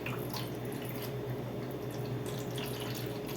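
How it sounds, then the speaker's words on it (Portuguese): Water runs steadily into a baking pan in the oven for a condensed-milk flan water bath, a continuous splashing trickle with a low background hum and no talk. "Então eu vou acrescentar água aqui."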